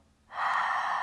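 A single open-mouth breathy exhale after a full inhale during a yin yoga class, starting abruptly after a quiet moment and holding steady, close and soft.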